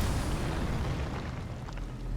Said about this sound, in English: Okay, this is gonna explode.